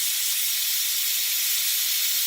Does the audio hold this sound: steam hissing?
yes